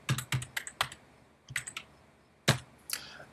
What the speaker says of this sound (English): I'm going to type in Dropbox.